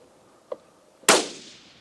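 Rifle shot during an antelope hunt, a single sharp loud crack with a short decaying echo, preceded by a faint click half a second earlier, outdoors with no talk.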